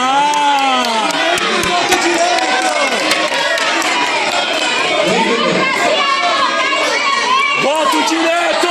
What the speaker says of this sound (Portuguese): vocês estão gritando democracia